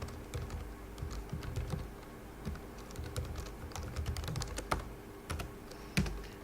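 A web link is typed on a computer keyboard: a close, continuous run of uneven key clicks and taps with brief pauses and one firmer keystroke near the end, with no voices.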